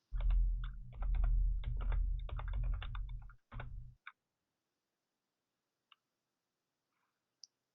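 Steady clatter of typing on a computer keyboard, close and brisk for about four seconds, then a couple of isolated faint key clicks after a pause.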